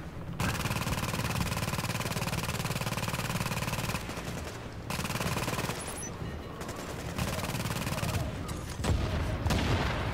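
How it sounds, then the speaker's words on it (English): Automated turret in The Division pours out sustained, rapid gunfire, loud and continuous with brief dips, game combat noise throughout. "So that turret's just taking down Martinez by himself."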